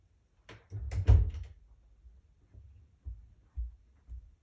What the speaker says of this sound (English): I closed the door to the library